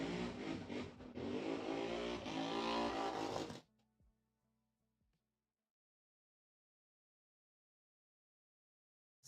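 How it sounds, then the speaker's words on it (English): Motorcycle doing burnouts just outside a house: a loud, sustained roaring engine with revving for several seconds, then cutting off abruptly into near silence. "Some dude is doing burnouts on a motorcycle right outside the house."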